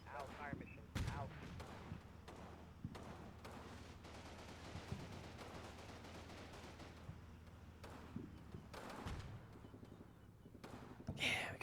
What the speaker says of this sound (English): Oh, they're shooting.